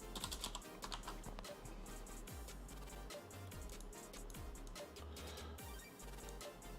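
Rapid typing on a computer keyboard while coding, dense continuous clicking keystrokes with a few low thumps underneath.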